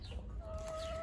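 Hens in a backyard coop give a short, close cluck with a rising tonal squawk over low background noise.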